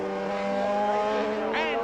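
Suzuki racing motorcycles heeled over through a bend during a lap of a road race, a steady high engine whine with several layered tones, a brief rising note near the end as a machine passes, under continuous commentary.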